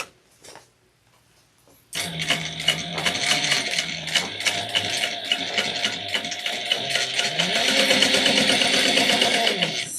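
A sewing machine starts after a short quiet pause and runs steadily while stitching backpack seams, with a rapid mechanical rattle that is close and loud and shifts pace slightly.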